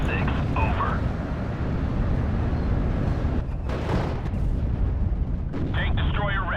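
Artillery barrage in the WWII strategy game Steel Division: Normandy 44, a continuous heavy rumble of shell impacts and booms throughout, with a voice talking over parts of it.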